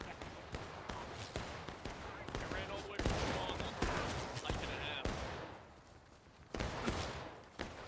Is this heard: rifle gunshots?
yes